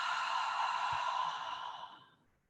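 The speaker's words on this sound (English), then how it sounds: "breathe in through your nose and exhale through your mouth" A slow, deep breath during guided prayer, heard as one long, close, breathy exhale through the mouth that softens and fades into silence.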